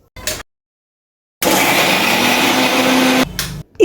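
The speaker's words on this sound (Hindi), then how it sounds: "अब इसकी हमें चटनी पीस लेनी है।" A mixer grinder blends coriander and curd chutney with sugar and salt, a steady loud whirring motor running for about two seconds between short bursts, with silence before.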